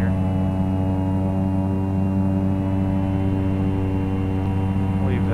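Steady droning turboprop engine and airflow of a simulated Cessna 208B Caravan overspeeding in X-Plane 11, a continuous loud hum with layered tones and no breaks.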